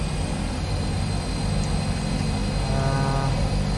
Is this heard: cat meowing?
no